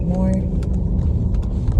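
Passenger car driven by a learner on a road with lane markings, its engine rumbling low and steady, close and fairly loud, with a brief harmonic tone early on and people talking over it.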